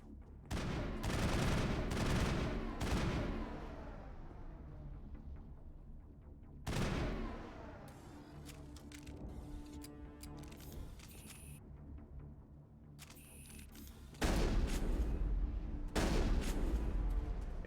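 Heavy gunfire in Mass Effect, loud booming bursts of shotgun blasts opening the scene, dropping to a quieter stretch of clattering effects, then returning as dense, forceful repeated shots near the end.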